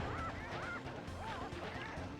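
Chickens clucking in the video game Sly Cooper and the Thievius Raccoonus, repeated squawky calls over a steady game soundtrack.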